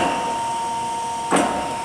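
A Chevalier FSG-1236AD hydraulic surface grinder runs a slow traverse grind, a steady mechanical hum with a constant tone held throughout, and one brief louder rush of grinding noise near the end.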